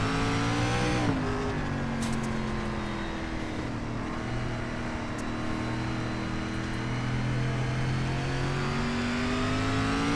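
A race car engine roars steadily at high revs on the Knoxville dirt track in iRacing's SRX Series, with a gear change early on and a continuous loud drone throughout.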